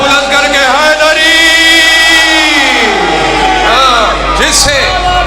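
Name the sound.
crowd shouting "Haideri" with both hands raised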